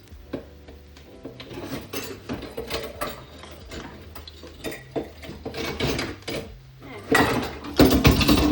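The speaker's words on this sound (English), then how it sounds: "You want to scratch the pot." A spoon scraping the bottom of a pot while cooking Haitian djon djon black rice, loud repeated metallic scratches and clanks in irregular bursts, growing harsher toward the end.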